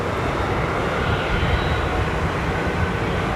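Airplane at London Heathrow Airport, a steady broadband engine roar that holds loud and constant throughout with no talk.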